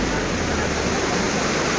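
Rushing river water in Skardu flows steadily as a dense, constant broadband roar with no breaks, loud and close.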